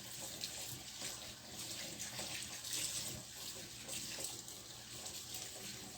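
Running tap water pours steadily over raw meat being rinsed and separated in a sink with hot water, a continuous close, fairly loud splashing hiss that holds unbroken throughout.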